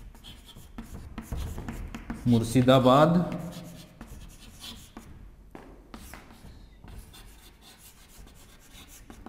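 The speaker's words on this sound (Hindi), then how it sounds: "यहां पे लिख देता हूं ढाका" Short, scratchy strokes of writing on a board come in quick bursts, heard under someone speaking in a lecture.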